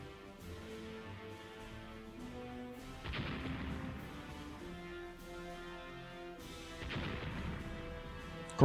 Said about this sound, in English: Great gunnery we got going on, finally.